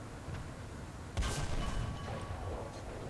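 A KV-1S Russian heavy tank cannon firing in the game War Thunder, a single sharp boom that rolls into a rumbling tail, somewhat muffled and moderately distant over a low background hum.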